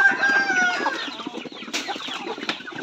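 Native chickens cluck and call close by in a farmyard, a busy overlapping chorus of short clucks and squawks with no talk.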